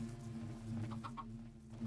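A chicken in a Minecraft modpack (FTB Evolution) gives a few short clucks in quick succession, faint over a steady hum of game sound.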